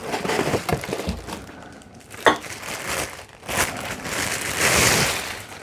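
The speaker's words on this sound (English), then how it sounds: "All right, the glass carafes in a nice big box." A glass 12-cup coffee carafe lifted out of a big cardboard box, with close scraping, crinkling packaging and a sharp knock or two, uneven and handled.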